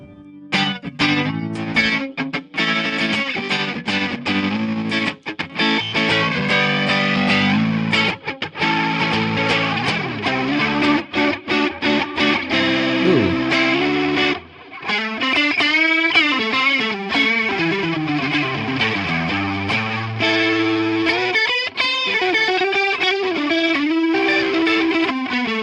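Electric guitar chords played through stacked Joyo Ironman series effects pedals, a hollow, distorted, chorus-tinged tone ringing continuously as chords change, loud and alone with no talking.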